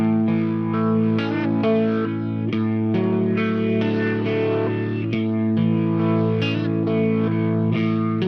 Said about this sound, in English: The third foot switch on the bottom row is for the Robin Hood Studios Leslie